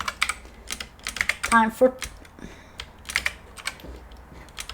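Rapid typing on a computer keyboard, clusters of quick close clicks with short pauses, while a voice speaks briefly between the keystrokes.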